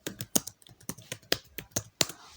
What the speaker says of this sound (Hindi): मैं इसको कीबोर्ड से आपको करके दिखाता हूँ ताकि आपको नज़र आए।